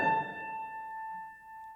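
One musical note A sounds with a soft attack and holds steadily as a clear, pure tone, a brief noisy onset at the start.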